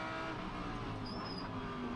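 GT race cars, a Lamborghini and a Lexus, pass on a track at the Sugo Japan Cup, heard as a steady distant engine drone with a brief high whine rising over it.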